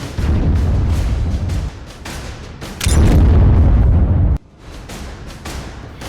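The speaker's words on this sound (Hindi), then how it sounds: "ये अभी एक दूसरा ब्लास्ट भी हुआ है हमारी ये नूर खान एयर बेस पे" Heavy explosion blasts at Nur Khan air base in news footage: loud, sustained booming rumble that surges to a louder burst midway, then cuts off sharply and trails into a quieter roar.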